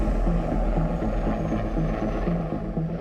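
A Kamov 226 Climber military helicopter of the Indian Army sounds from fairly close, with a continuous heavy engine roar and rhythmic rotor thumping that stays steady throughout, with no voices.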